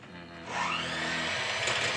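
A Mini Bullet blender kicks on about halfway through and pulverizes banana, its loud steady motor whine and grinding blades running on to the end after a quiet start.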